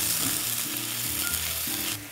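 Minced jarred garlic sizzles and fries in a pan, a loud, close, continuous hiss with faint scraping of stirring underneath, and no voices.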